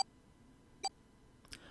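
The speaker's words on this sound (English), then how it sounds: "The moment they did, their bracelets beeped." Bracelets beep in Zero Escape: 999, two short sharp electronic tones spaced apart, then a brief burst of a click-like sound, all fairly faint over a quiet background.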